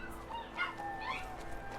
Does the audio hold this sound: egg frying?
no